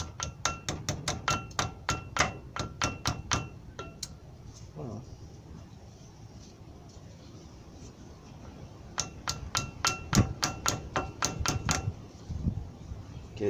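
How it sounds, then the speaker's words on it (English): Sharp metallic taps from the butt of a screwdriver driving a brake part into its groove on a 1994 Ford Ranger with manual locking hubs: quick bursts of rapid strikes, a pause with faint background noise, then another run of taps. "get it tapped in a little bit with the butt end of the screwdriver"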